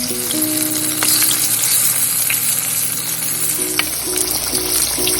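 Tofu squares deep-fry in hot oil, a loud steady sizzle and crackle with bubbling, running unbroken throughout.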